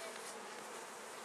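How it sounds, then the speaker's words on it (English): Bees buzz steadily and close during a fall hive inspection, a dense continuous drone filling the whole moment with no talk over it. "There's a bee on you"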